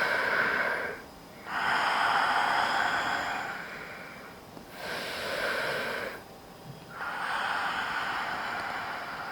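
Deep, slow breathing during a back-pain yoga pose: long airy inhalations and exhalations alternating with brief pauses, close and fairly soft, with no talking.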